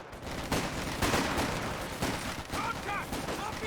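Rapid bursts of machine gun fire into a building in the World War II strategy game Company of Heroes 2, several sharp volleys over a constant battlefield din, with a few light metallic pings near the end.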